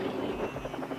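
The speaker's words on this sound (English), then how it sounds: "helicopters" Helicopter from a guru's luxury fleet, a rhythmic rotor thumping over a low engine drone, moderately loud and steady for a brief moment.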